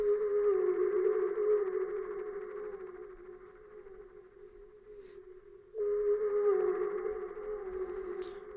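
A sustained F note from a synth using the Not Cute preset in FL Studio, steady and resonant with rich harmonics, briefly dipping before being played again at full strength partway through.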